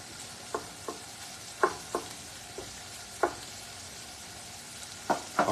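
Bacon frying in a pan gives a soft steady sizzle with scattered sharp pops and spits every second or so, close and fairly quiet, with no talk.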